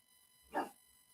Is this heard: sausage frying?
no